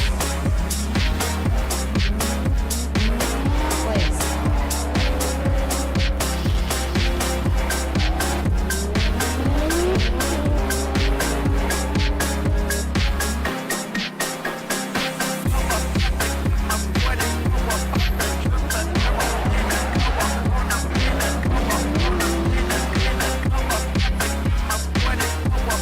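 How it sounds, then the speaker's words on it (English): Drift karts doing burnouts in a burnout box at a live drift battle competition on a kart track, warming their tires: sustained loud tire squeal over steady revving engines, continuous throughout with a brief dip partway. "we've got our drivers warming up their tires in the burnout box"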